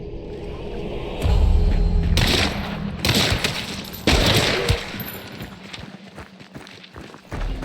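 Rapid bursts of gunfire from two Dolch pistols and a Nitro rifle in the video game Hunt: Showdown, loud repeated shots with sharp onsets at several points, no talking.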